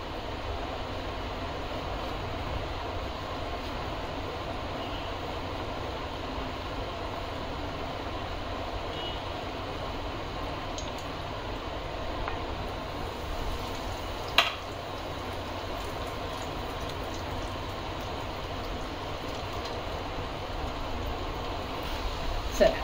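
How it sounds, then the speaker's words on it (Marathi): Jackfruit seed kebabs sizzle steadily in a pan of hot oil over low gas, a constant close crackling hiss that runs unbroken, with a voice talking over it. "थोडासा गॅस बारीक करायचा, म्हणजे मग व्यवस्थित तळले जातील आतपर्यंत"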